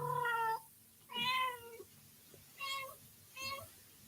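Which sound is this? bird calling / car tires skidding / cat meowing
cat meowing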